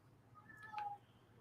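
A house cat cries at a partly closed door, giving a faint, drawn-out meow with a rising then falling whine against a low background hum.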